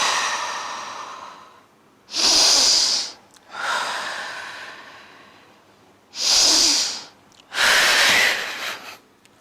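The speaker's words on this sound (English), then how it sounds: "Take 5 deep breaths." Deep breaths during a breathing exercise: several loud, close inhales and exhales in slow rhythm, with audible airy rushes separated by brief pauses and no talking.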